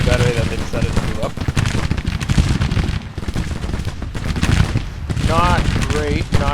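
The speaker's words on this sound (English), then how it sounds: "There's an artillery battery that they decided to move up." Dense exchanges of musket fire and booming artillery in the Civil War strategy game Grand Tactician, crackling volleys and cannon blasts overlapping continuously, with faint shouting voices mixed into the battle.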